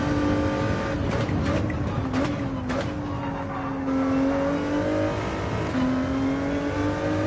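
Ford GT40 GT3 race car in a racing game, engine droning loud and steady at high revs with pitch rising and dipping through gear changes, a few sharp transient clicks early on, no voices.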